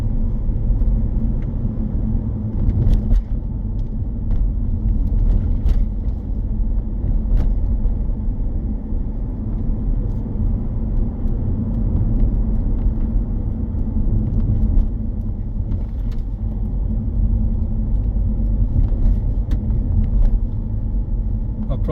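A car cruises steadily along a road during a driving test on a Huddersfield route, a constant low engine and tyre rumble close inside the cabin, with an instructor's voice speaking over it and a few clicks.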